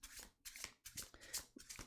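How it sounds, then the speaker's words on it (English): Tarot cards are shuffled by hand at close range, in quick soft riffling bursts separated by brief gaps. "I'm shuffling the Jesus out of these cards right here."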